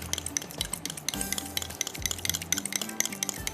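Yogurt is whisked in a bowl for a marinade, giving a rapid, rhythmic series of close clinks and wet stirring strokes that repeat steadily without pause and without talk.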